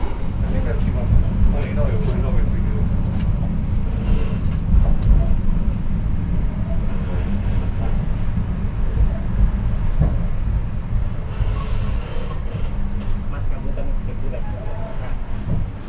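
Gajayana luxury train pulling into Kediri station, a constant low rumbling of rolling carriages heard from inside, with talking over the noise.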